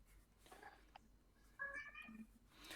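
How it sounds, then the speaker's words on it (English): Cat meowing faintly in the background, a short drawn-out meow near the middle over quiet room noise. "It was the cat meowing."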